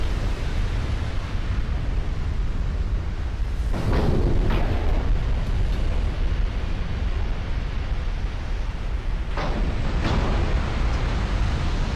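High-explosive shells burst against a dreadnought-era warship in a naval combat game: a steady roaring wash of noise, broken by two pairs of heavy booming impacts, one early and one near the end.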